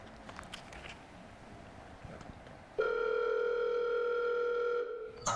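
A telephone dialing tone sounds after a stretch of rustling room noise, a steady electronic tone that holds for a couple of seconds before cutting off, close and clear, with no talk over it.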